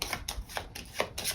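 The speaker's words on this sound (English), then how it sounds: "I'm going to collect up his cards and shuffle them without mixing them up too badly." Playing cards for a solo Terraforming Mars: Ares Expedition game being gathered and shuffled, a run of soft papery riffles and taps in quick bursts, close and fairly quiet with no talking.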